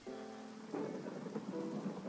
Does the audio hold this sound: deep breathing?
no